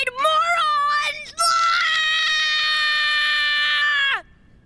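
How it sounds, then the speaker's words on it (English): A loud, sustained high-pitched scream in a children's trivia show, starting with a few short wavering cries and then a long held shriek of about three seconds that cuts off abruptly. "Why are you screaming?"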